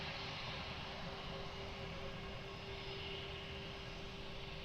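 A plane rolls for takeoff at Lisbon Airport, heard as a steady, faint, distant jet engine roar with a constant tonal whine that holds even throughout, with no voices.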